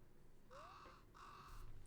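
Two drawn-out, harsh caws from a crow in the Fantasy Life video game, evenly spaced and moderately loud over a low background hum.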